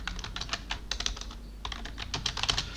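Fast, close typing on a computer keyboard while Hindi text is entered in a Windows word processor, with crisp key clicks in quick uneven bursts and a brief pause in the middle.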